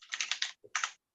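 Computer keyboard keys clicking in two quick bursts, a run of several rapid clicks followed by a short pause and a second brief flurry, close and fairly quiet.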